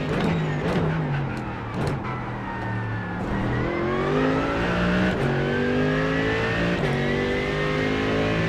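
McLaren GT3 race car lapping in iRacing, its engine revving loudly and continuously through repeated upshifts and downshifts, pitch climbing and dropping as it accelerates and brakes, with no voices.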